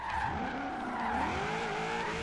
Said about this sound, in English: the biggest thing that I enjoy about it right now has got to be the V8 sound